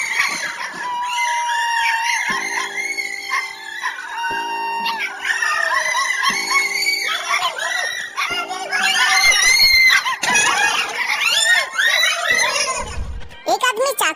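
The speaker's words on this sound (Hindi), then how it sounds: "घर के अंदर से एक औरत जोर से चिल्लाने लगती है।" A woman screams loudly and repeatedly inside a house during a break-in. Her shrill cries rise and fall over a busy, cluttered background, and other voices can be heard.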